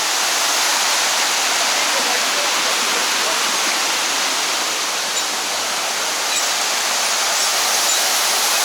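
Empress Falls at Wentworth Falls in the Blue Mountains roars as a steady, dense rush of falling water that fills the whole clip close up, with no breaks.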